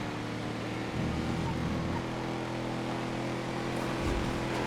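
Engines of a massive Liberator monster truck and a small Seréna Rally car racing in GTA FiveM, a steady low rumbling drone with shifting engine tones and constant wind-like noise throughout.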